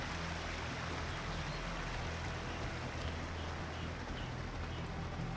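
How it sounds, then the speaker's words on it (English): Small waterfall creek beside a little wooden bridge in Assassin's Creed IV Black Flag, a steady broadband rush of flowing water, even and continuous throughout with no voices. "We got the little wooden bridge here next to a tiny little waterfall creek."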